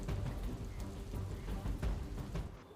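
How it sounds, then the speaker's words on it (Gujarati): Steady rain pouring down during a rain alert in Ahmedabad, a dense continuous hiss of drops on surfaces, loud and close throughout with no voices. "અમદાવાદમાં વરસાદની શરૂઆત થઈ ગઈ છે"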